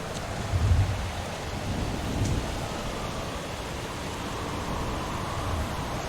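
A thunderstorm rumbles with dense rain hiss and low, rolling thunder swelling near the start, a steady ambient wash without voices.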